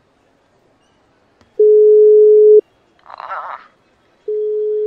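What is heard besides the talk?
telephone busy signal on a failed call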